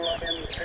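A cisticola calls on safari, giving three short, high chirps in quick succession, close and clear over a soft background.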